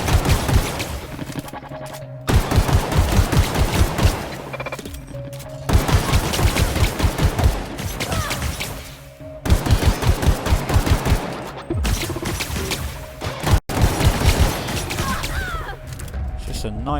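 Rapid bursts of gunfire in The Outer Worlds, several loud volleys of shots separated by short pauses, with game sound effects and a voice talking over them.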